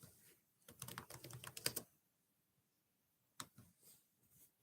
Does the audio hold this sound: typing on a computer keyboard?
yes